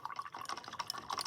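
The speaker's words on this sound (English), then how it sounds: "I'm gonna put some water in my green, put some water in my yellow" Small drips and splashes of water falling into green and yellow paint colors on a palette, a quick irregular run of light close-up taps and trickles, no talking.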